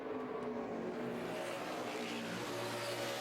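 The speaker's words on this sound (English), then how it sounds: "Backup car on track for Patrick Carpentier." A NASCAR Sprint Cup backup race car runs on the road course at Watkins Glen during first practice, its engine a steady, fairly distant roar with rising and falling pitch, no voices over it.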